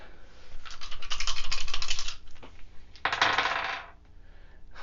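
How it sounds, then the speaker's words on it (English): Dice rattling and clattering in the Wingspan board game, two bursts of rapid clicking rolls, close and fairly loud, the second ending in a settling tumble, with no talk. "Roll all dice"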